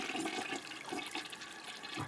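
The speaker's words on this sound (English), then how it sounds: "Let's try one more flush here." A toilet flushes in a loud, continuous rushing swirl of water that lasts the whole stretch, close by and alone.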